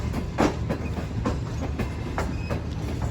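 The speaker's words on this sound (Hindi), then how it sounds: "हैदराबाद रेलवे स्टेशन पर हमारी ट्रेन अप्रोच बना रही है" Shalimar Express passenger train (28 Down) rolling into Hyderabad railway station, steady clickety-clack of wheels on rail joints with broadband rumble throughout, close and continuous, no talking.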